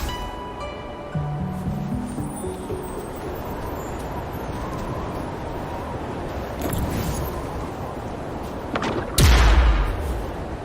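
An explosion blasts open a cliff in the video game Wuthering Waves, a single sudden loud boom near the end, rising out of a steady low ambient rumble.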